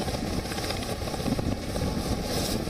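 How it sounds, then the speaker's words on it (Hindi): A Border Security Force helicopter drones overhead at a Delhi Police training centre, its rotor and engine making a steady rumbling throb that fills the background. "यह है बॉर्डर सिक्योरिटी फोर्स का हेलीकॉप्टर।"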